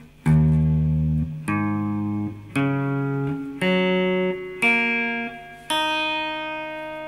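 Guitar tuned a half step down to E flat is strummed string by string, six separate plucked notes rising from low to high, each ringing out clearly for about a second before the next, with no talking.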